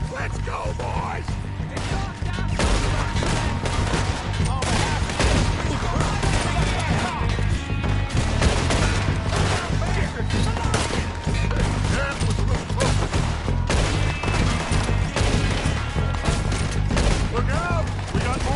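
Sustained gunfire in a Red Dead Redemption 2 shootout against O'Driscoll gang members: dense, continuous volleys of shots and cracks at high loudness throughout, with shouted voices mixed in.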